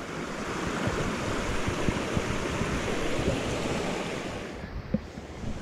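A mountain stream flows and rushes steadily, a constant close wash of water with no break.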